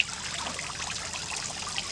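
Aquarium waterfall on an 80-gallon fish tank trickles and splashes steadily, a continuous soft watery hiss with small bright drips, close by and without speech.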